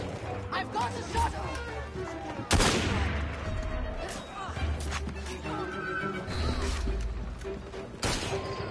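Gunfire in the Assassin's Creed Syndicate video game rings out as sharp shots and a volley of cracks, with a crash at one point, over game clatter and voices talking throughout.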